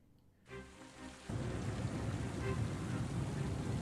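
Heavy storm rain from the Oceanhorn 2 video game swells in after a brief quiet start, a dense steady hiss with a low rumbling thunder roll beneath it, loud and continuous with no voices.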